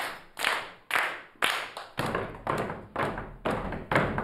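A class of children claps out a number in unison, about nine sharp, evenly spaced group claps roughly half a second apart, each with a short ringing tail in a room.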